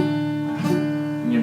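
An acoustic guitar chord is strummed, then strummed again, sounding buzzy and muted rather than ringing cleanly, from strings not pressed hard enough on the frets.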